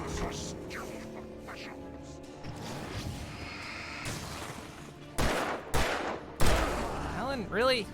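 Gunshots ring out in Alan Wake Remastered as several sharp, loud cracks land in the second half, spaced irregularly over steady game ambience and music.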